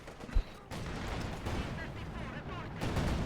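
Raketen anti-tank gun in a WWII real-time strategy game firing at a T-34 tank: a sharp shot followed by continuous battle rumble and scattered gunfire, with a voice talking over the action.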